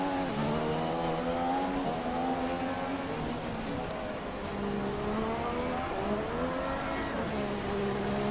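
Racing car engine from the F1 2016 video game, heard as a continuous high, whining tone whose pitch climbs and dips with gear changes as the car goes toward the final corners of the Abu Dhabi track.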